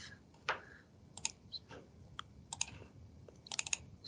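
Scattered clicks and taps on a computer keyboard as a name is typed in, light irregular keystrokes close by in a quiet room.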